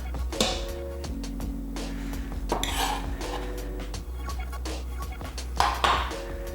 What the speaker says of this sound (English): And give everything a good stir